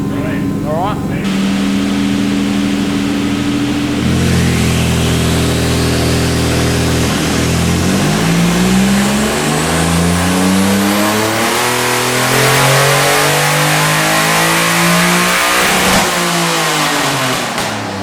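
A Nissan 300ZX racecar engine revs on a dyno, climbing from a steady drone into repeated rising and falling sweeps, loud and close throughout.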